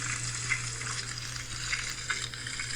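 Salmon fillet frying in lemon butter in a pan gives off a steady close sizzle with faint crackles and a low hum underneath, and nobody talks.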